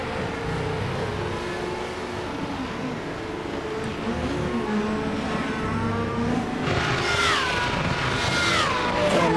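Race car engine droning around the Bathurst circuit, a steady loud roar with rising revs and whining higher engine notes toward the end as another car closes in, no voices.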